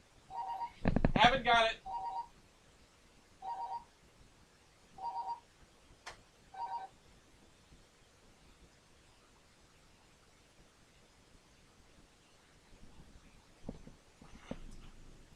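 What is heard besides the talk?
landline house phone beeping in its dock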